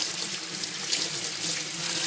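Tap water running into a sink while hands are rinsed after making whipped soap, a steady close splashing rush of water that stays even throughout with no talking.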